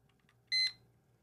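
An electronic timer gives a single short, bright beep, clear and fairly close, with a faint low hum in an otherwise quiet room.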